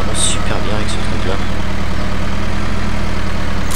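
Small tractor engine idling steadily in a farming video game, a low continuous rumble with a faint chirp near the start.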